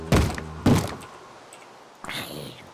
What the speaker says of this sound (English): Stop beating on my door.